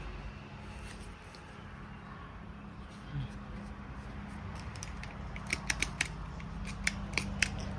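Scissors trim the edges of banana leaves while folding a baisri offering, giving soft intermittent snips that grow into sharper, louder cuts near the end over a quiet room background with a faint voice.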